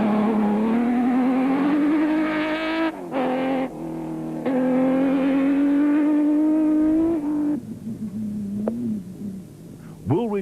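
A Nissan Hardbody race truck in an off-road desert rally roars past loud and close, its engine climbing in pitch through hard acceleration with gear changes, then fading away.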